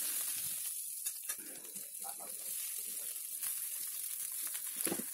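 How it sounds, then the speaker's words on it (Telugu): Curry leaves and ingredients frying in hot tempering oil with a pinch of salt, a continuous crackling sizzle with small pops and stirring scrapes, close and steady throughout. "ఇవి మంచిగా వేగుతాయి"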